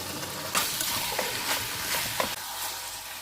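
Chicken sautéing in a pan for Bengali village-style cooking with malabar spinach stalks and potatoes, a steady close sizzle and fry broken by a few louder stirring scrapes, with no talk.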